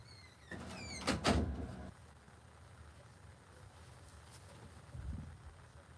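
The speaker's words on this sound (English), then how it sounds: "Gonna close my door." A door closes in a quiet room at home, a short scrape and a solid thud about a second in, followed by near silence with faint background noise and a soft bump near the end.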